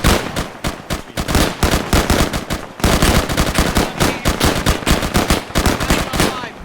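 Sustained machine-gun and rifle fire in the war video game Fog and Fire: dense, rapid cracking bursts that are close and loud, with a brief pause before the shooting resumes.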